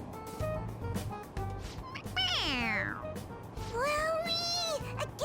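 A toy cat in Persona 5 Royal meows twice when pressed on the head, long drawn-out and sliding in pitch, over quiet background murmur and faint voices.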